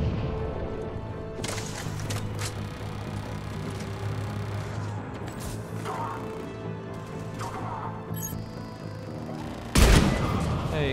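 Gunfire and impacts in the Mass Effect 3 video game, a steady mechanical rattle of shots with dense game music and effects, ending in a sharp loud blast near the end.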